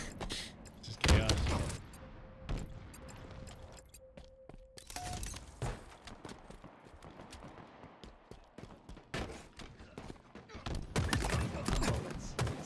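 Gunfire in the video game Halo, clusters of sharp shots and thuds scattered through the clip with game effects and a brief tone, moderately loud and busy.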